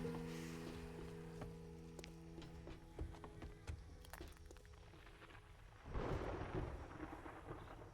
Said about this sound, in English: Our big problem is the storm at this point.